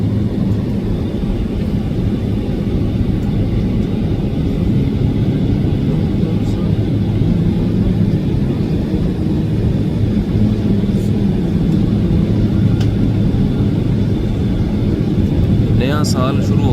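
An airliner at a busy airport in Japan makes a loud, steady jet rumble that continues unbroken throughout, close by and filling the whole scene.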